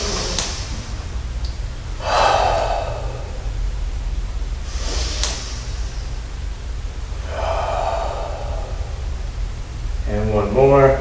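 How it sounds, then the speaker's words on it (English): A Shotokan karate class does a group breathing exercise: several loud, airy breaths come in slow, spaced bursts over a steady background hum, with a voice speaking briefly at the end. "Let's do our breathing exercise really quickly."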